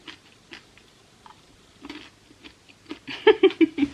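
M&M's candies handled and crunched close to the mic in ASMR style, soft rattles and taps followed by a cluster of sharp crunchy bites near the end, with no voice.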